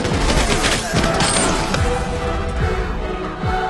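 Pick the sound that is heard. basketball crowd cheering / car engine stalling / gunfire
gunfire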